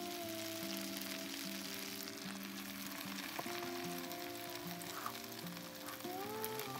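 Eggs fry in a pan at a canoe campsite beside McEwan Lake, a steady broadband sizzle that carries evenly from start to finish, with a few brief ticks and crackles, and no one talking.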